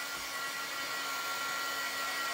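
Hair dryer blowing a steady, even whoosh to dry paint, a constant close airflow hum with no variation or voices.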